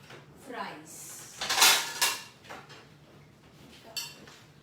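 A plate is handled in a home kitchen while fries are being cooked, producing a cluster of clattering dish and drawer knocks in the middle, with softer clinks before and after against low background noise.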